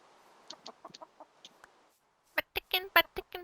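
Minecraft chickens clucking in a game, scattered faint clucks, a brief pause, then a louder, close run of rapid clucks.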